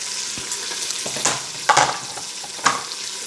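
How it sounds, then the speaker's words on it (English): Chopped onion fries with pancetta in a pan, giving a steady close sizzle broken by a few scrapes and clacks as the pieces are stirred. "the onion is going to go in, and we're going to cook that for another minute or two with the"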